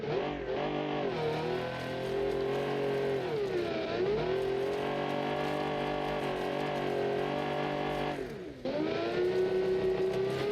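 A heavy V12 car accelerating in a video game, its loud, steady engine drone rising in pitch through gear changes, with a brief dip near the end before the roar returns.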